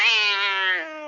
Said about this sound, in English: Angry cat.